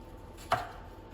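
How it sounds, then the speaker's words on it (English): A knife cuts once through meat during camp-oven cooking, giving a single short, close chop against a quiet background. "Slicing through the meat."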